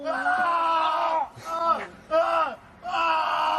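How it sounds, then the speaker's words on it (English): Two amateur backyard wrestlers scream and groan in pain after a piledriver, with loud, strained cries in several bursts and short gaps between them. "left both amateur wrestlers clutching their backs and screaming in agony"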